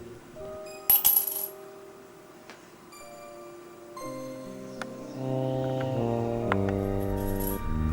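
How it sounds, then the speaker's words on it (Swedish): A coin clinks sharply into a real mug, a bright metallic strike near one second with brief ringing, followed by steady tonal hum and later faint ticks. "Han lägger i 1 mynt i muggen."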